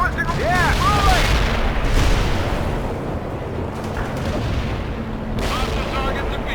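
Heavy artillery pounds away in World in Conflict, loud booming blasts and rolling explosions with whistling shells, while radio voices talk over the barrage.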